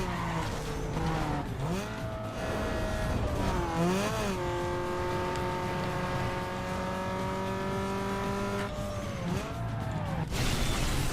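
A race car in Need for Speed Underground 2 with a 6-speed transmission revs hard and climbs through quick gear shifts, each shift pulling the engine pitch down before it winds up again, with tire squeal at moments; the sound is loud and continuous and there is no talk.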